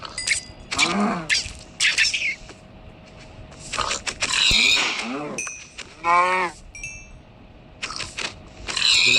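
Pink pigs in Minecraft struck with a sword give a series of loud, squealing, pitch-bending grunts, spaced out in bursts with game clatter between them and no talking.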